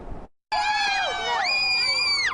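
Family members scream and cheer outside a courthouse as an indictment comes down, loud sustained high-pitched shrieks and whoops from several voices at once, sliding and overlapping after a brief pause.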